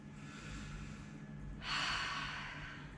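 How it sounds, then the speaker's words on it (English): During a yoga session, one soft breath sounds faintly, then a fuller audible cleansing exhale breaks out near the microphone and tapers off, with no talk. "Cleansing breath."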